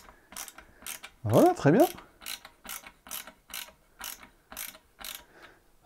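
Screws being tightened by hand while assembling a PC, a series of short regular ratcheting clicks with two louder bursts near the start, close and fairly quiet, with a brief spoken remark at the end.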